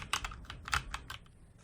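Clacky keystrokes on a HyperX Alloy Origins Core mechanical keyboard, a quick irregular run of close, crisp key presses with no voices.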